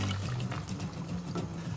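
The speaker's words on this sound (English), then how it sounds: "I'm just going to top it up with a little bit of water" Water poured from a jug into a cooking pan of tomato puree sauce, a steady close trickle and splash lasting under two seconds with no talk.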